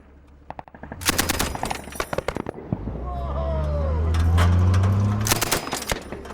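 Machine gun fire at a Pathfinder Platoon weapons practice in Afghanistan: loud, rapid bursts of close shots, then a rising rumble of a heavy engine with sharp reports still cracking over it.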